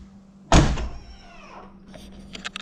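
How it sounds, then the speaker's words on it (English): A Jeep JL car door swings shut with a single loud, close thunk, its ring fading over about a second, followed by faint clicks and a soft electric whir as power running boards move. "I'm going to close the door"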